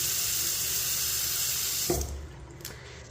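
A Moen faucet runs a steady stream into a small Kohler sink in a hotel bathroom. The water rushes at an even level, then stops, and a few faint clunks follow.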